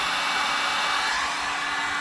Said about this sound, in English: Now this heat gun is attached to the relay, which we should hear click anytime in the next 10 seconds.